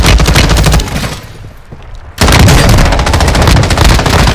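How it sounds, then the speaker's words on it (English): Rapid, loud bursts of gunfire from a sniper rifle in the video game Warzone 2.0 Resurgence on Ashika Island. The shots fire in quick succession, drop away for about a second, then resume dense and close until the end. "Sniper sound"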